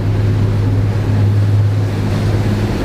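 A Trader 535 Sunliner motor yacht cruises at about 12 knots and 2,200 RPM, its engine giving a loud, steady low drone mixed with the rushing wash of water and wind.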